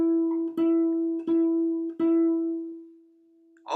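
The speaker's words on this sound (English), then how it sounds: "Now let's take the same note and place it on the third string here on the G." A single guitar note sounded on the G string, plucked three times in even succession, each attack ringing with a steady sustained tone that hangs on and slowly fades, close and clear with no talk.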